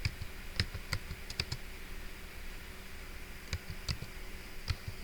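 Someone types a network command on a computer keyboard, sparse separate key clicks and short clusters of taps spread over a few seconds against a faint steady hum.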